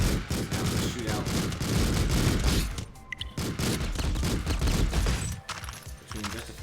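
Gunfire in the video game Streets of Rogue, rapid bursts of loud shots cracking in quick succession through most of the stretch, easing off briefly near the end, with faint voices mixed in.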